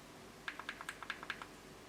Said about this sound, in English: to turn this on, you click the button 5 times